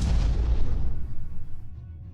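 Missiles strike and explode in the space strategy game Stardrive 2, a heavy, close boom that rumbles and fades away over about two seconds.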